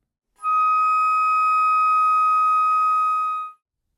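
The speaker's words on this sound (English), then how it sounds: "To finger D#/E flat in the third octave" A flute holds a single steady D-sharp (E-flat) in the third octave for about three seconds, a clear, pure, sustained tone that starts and stops cleanly, played alone.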